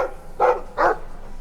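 A dog in the video game Dragon Age 2 gives two short, close barks about half a second apart, with no talk over them.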